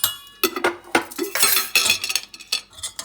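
Spoon stirring salt into karhi in a metal pot, with continuous scraping and clinking strokes in an irregular rhythm, close and fairly loud, no talking.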